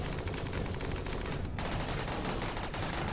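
Dense, continuous gunfire rattles through a RimWorld firefight on a tundra map, rapid overlapping shots forming a steady loud barrage with a brief dip before bursts resume, no talk.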